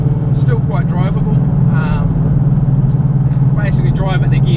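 A supercharged 2009 Ford Mustang Black Widow being driven, its engine humming low and steady from inside the cabin beneath someone talking over it.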